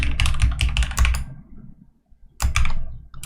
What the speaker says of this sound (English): which is me pressing down on the keyboard